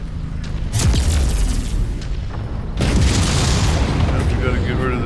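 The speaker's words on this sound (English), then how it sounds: "Shotgun." Shotgun blasts boom in a Kestrel Lancers DLC video game mission, two heavy booming reports a couple of seconds apart over dense, rumbling game noise.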